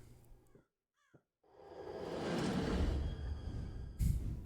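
A crow caws a couple of times in the horror game Rise of Insanity, the calls short and faint before a rising, loud whooshing rumble takes over.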